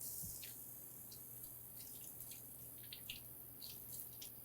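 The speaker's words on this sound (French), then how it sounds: "juste si tu peux encore passer l'eau rapidement, juste à cet endroit" Tap water running steadily while leek leaves are rinsed under it, a soft continuous hiss with scattered light splashes and drips, quiet and close, no voices.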